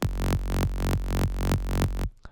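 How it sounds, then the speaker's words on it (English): A buzzy, bright synthesized saw-wave kick, phase set to 0 degrees, playing F sharp, pulses in seven even, rapid repeats, each hit starting with a low thump, dry and unprocessed, then cuts off. "This is just a saw wave with the phase set to 0 degrees"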